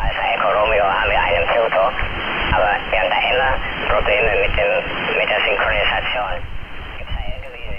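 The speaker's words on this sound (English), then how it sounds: "what you're hearing now is SSB transmission" Single-sideband voice transmission received from the QO-100 satellite through SDR console software, heard as a continuous band-limited, warbling speech-like signal with garbled, hollow-sounding voices under steady background hiss, loud and unbroken throughout.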